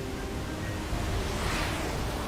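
A waterfall in the video game Sonic Frontiers produces a steady, dense rushing roar of falling water, continuous and even throughout with no voices over it.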